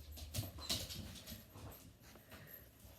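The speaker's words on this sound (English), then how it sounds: "And his dog's so excited to see him." An excited dog whimpering and yipping as its owner arrives home from restaurant work, with soft, fairly faint whines and small yelps scattered through the moment and no talking.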